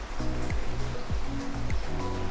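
Water gushing freely from a shallow natural fresh well in Baler, a steady rushing flow heard up close with a few low thuds and splashes mixed in.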